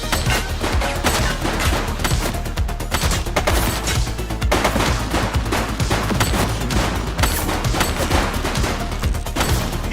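Sustained gunfire in the police game The Precinct, dense bursts of rapid shots and automatic fire rattling loudly and continuously for several seconds with no talking.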